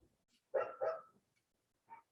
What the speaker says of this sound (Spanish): estamos hablando del ladrido de un perro. Bueno, concretamente es una perrita.